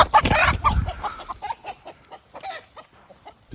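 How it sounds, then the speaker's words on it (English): A chicken being herded along a safety-edged fence clucks right next to the listener: a loud, agitated burst at first, then a series of quieter, broken clucks and squawks, with no talking. "The chicken will not just go where I'm driving it."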